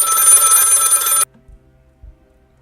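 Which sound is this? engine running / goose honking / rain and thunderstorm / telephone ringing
telephone ringing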